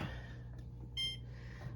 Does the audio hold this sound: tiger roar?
no